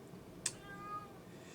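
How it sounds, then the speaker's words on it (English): A pet cat lets out one faint, short meow at a distance over quiet room tone. "my cat is back"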